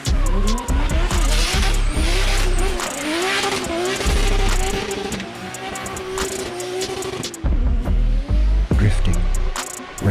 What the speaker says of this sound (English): In the blur of the track, where engines roar.